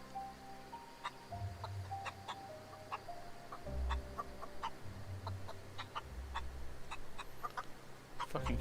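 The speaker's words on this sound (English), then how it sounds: "Hey, chicken." A chicken in the video game The Outer Worlds clucks in scattered short bursts over several seconds, moderately close against a low droning game ambience, with no talk during it.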